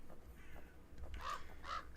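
Two harsh crow caws ring out in a horror video game, spaced about half a second apart over a low, murky ambient bed, fairly close and clear with no talking.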